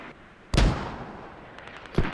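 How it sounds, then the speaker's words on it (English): Artillery strike in a video game: two sharp, loud blasts about a second and a half apart, the first followed by a long fading rumble, with faint pops between. "this artillery strike for SRG is kind of like the final blow"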